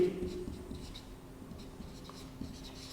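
Chalk or pen scratching out short strokes during a math lesson, a steady close scraping rhythm with brief pauses, with no talking over it.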